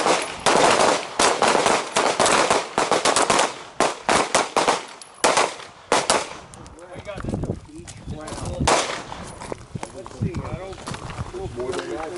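Handgun rounds fired at a target during a combatives shooting class, a cluster of sharp loud reports in the opening seconds, with an instructor talking and other speech following.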